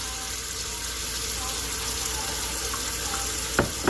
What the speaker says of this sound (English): So let's get everything washed up.